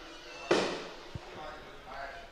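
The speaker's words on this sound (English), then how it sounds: "Now they set their fireworks off again here in Clay County" A firework bang at a high school football game in Clay County, Tennessee, one sharp outdoor boom followed by a smaller pop and crowd noise.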